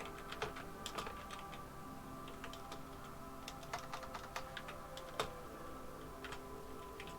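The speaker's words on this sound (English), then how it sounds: "Sorry for the typing." Fingers tap steadily on a computer keyboard, a run of quiet, close clicks in uneven bursts over a soft background hum, with no voices.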